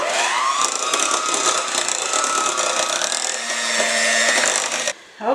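An electric mixer whirs steadily through a creamy pumpkin dessert layer, beating it smooth with a loud, even whine that climbs slightly in pitch before cutting off abruptly near the end.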